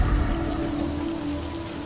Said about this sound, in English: Feel free to go to sleep to the nice rainy ambience of the jungle